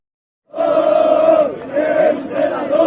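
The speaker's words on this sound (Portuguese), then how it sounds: "primeiro da torcida protestando" Vasco supporters protesting in a packed crowd chant together in loud, sustained rhythmic waves. The chant starts abruptly, dips briefly and then surges back, with the voices merging into one roaring mass rather than separate speech.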